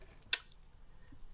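A pair of scissors handled once, giving a single sharp metallic snip or click amid near silence, with a faint tick afterward.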